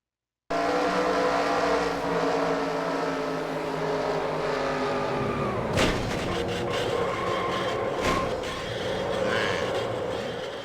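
Race cars in the NASCAR Racing 2003 video game at Atlanta Motor Speedway: a loud, continuous engine roar with tire squeal and a sharp crash-like burst partway through, no voices.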